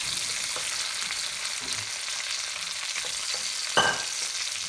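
Vegetables and green beans frying in a pre-seasoned wok, a continuous crackling sizzle with a few brief louder pops and scrapes, heard close up and without speech.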